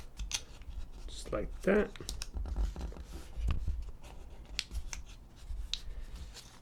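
A folded dollar bill creased by hand for origami gives soft, close papery scrapes and crinkles in short irregular strokes, with a person talking quietly between them.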